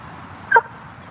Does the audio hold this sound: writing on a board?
no